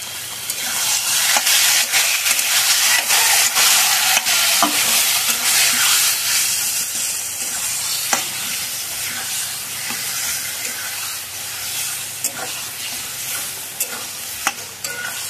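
Taro chunks with turmeric and salt are stirred in a hot pan, a steady loud sizzle and hiss with repeated scraping strokes of the spoon throughout, no voices.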